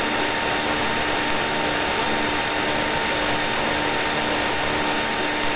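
Loud, constant whine and roar of a Pilatus PC-12's turbine engine inside the cockpit, a steady drone with sharp high tonal hums that stays level throughout, with no voices.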